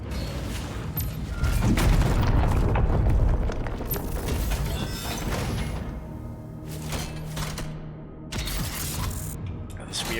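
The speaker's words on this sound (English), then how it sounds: "this weird, like, spike launcher that I never use" A spike launcher fires in DOOM The Dark Ages, heavy booming thumps and mechanical clanks in quick succession over a loud, rumbling combat mix, with sharp bursts near the end.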